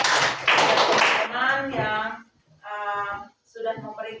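A classroom of students applauding classmates who shared their opinions: a burst of dense, lively clapping for just over a second, then a voice speaks over the quiet room.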